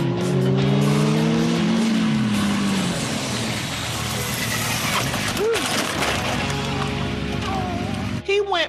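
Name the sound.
motorcycle doing a stoppie stunt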